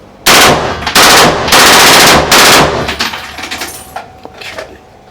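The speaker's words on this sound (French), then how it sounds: "C'est monstrueux de tirer dans une pièce comme ça aussi petite." A movie prop gun fires loud, close automatic bursts inside a small room, four long rapid volleys in a row, then sharp echoing reverberation and a few fainter clatters trailing off.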